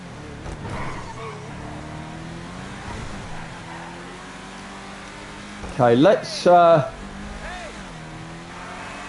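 Estate car driven in GTA Online, a steady engine drone and tyre noise running under continuous talk, with two brief louder bursts near the end.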